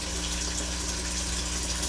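Water rushes steadily out of an aquaponic greenhouse grow bed as it drains, a close, even gushing roar with no pause across the short stretch.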